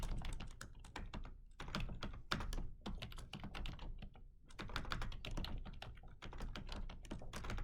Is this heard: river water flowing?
no